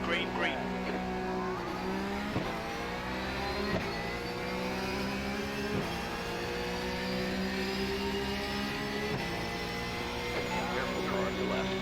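Porsche 911 Cup race cars at Barcelona in iRacing, a pack of engines screaming at high revs with repeated sharp downshift drops every couple of seconds, loud and continuous, with a voice talking over it.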